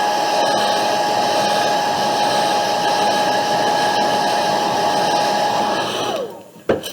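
A hair dryer blows steadily and loudly over a watercolor landscape painting, a continuous whirring rush that runs for several seconds before cutting off with a brief clatter at the end.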